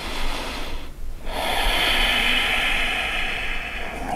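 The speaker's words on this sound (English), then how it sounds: "So, taking complete breaths." Long, complete breaths during a yoga practice: a loud, close, airy inhale or exhale that fills most of the moment after a brief pause, with a hissing, breathy texture.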